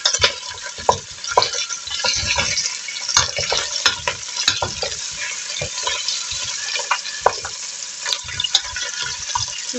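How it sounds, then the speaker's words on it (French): Chicken pieces spatter and sizzle loudly in a hot frying pan, with constant crackling broken by frequent sharp pops and the occasional clink of a utensil close by. "Ça pétouille."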